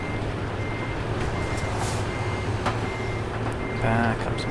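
Reversing beeps sound from a truck in Euro Truck Simulator 2. A loud, repeating tonal beep runs through the engine drone, with a sharper air-brake hiss near the end.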